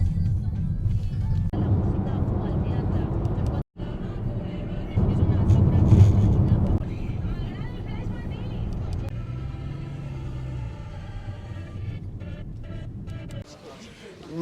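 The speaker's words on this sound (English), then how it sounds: "And here's our taxi." A taxi pulls away at the PortAventura resort's El Paso hotel, its engine a low, steady rumble lasting several seconds, with faint background sounds and a brief dropout partway through.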